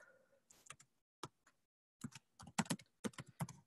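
An email address being typed on a computer keyboard in quiet surroundings, irregular bursts of close, crisp key clicks with short pauses, then a faster run of taps toward the end.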